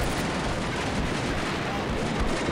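Artillery strike on German troops sheltering in a building during a Combat Mission: Beyond Overlord battle at Carentan, heard as a continuous dense roar of rumbling fire and distant blasts throughout, with no talk over it.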